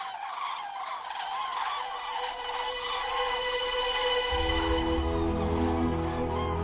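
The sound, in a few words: flock of migrating birds arriving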